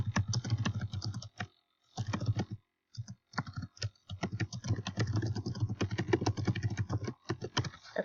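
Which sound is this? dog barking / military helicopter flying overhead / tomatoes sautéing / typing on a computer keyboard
typing on a computer keyboard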